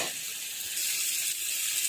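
Spice paste frying in oil in a pan as the masala finishes cooking, giving a steady, close sizzle with soft crackle and no voices.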